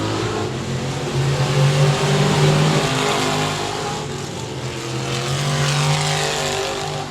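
Hobby stock race cars roar through turns 3 and 4 at 67 Speedway of Texarkana, a steady, loud engine drone that swells and eases as the pack passes, with no talking.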